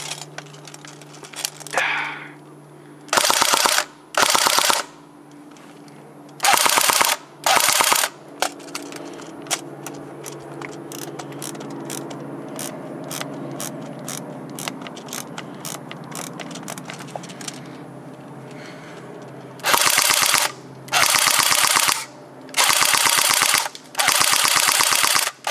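A CYMA Romanian AK47 airsoft gun with electric blowback test fired outdoors: several loud bursts of rapid mechanical clatter, each lasting about a second, separated by a softer, steady run of fast ratcheting cycling in the middle.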